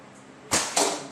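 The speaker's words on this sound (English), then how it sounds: "Probably heard that arrow slap." In an indoor hallway archery range, arrows strike a target with two sharp, close slaps about a quarter second apart over a quiet background.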